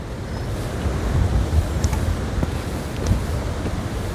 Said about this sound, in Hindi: अच्छा, तो ये नदी है भुजला नदी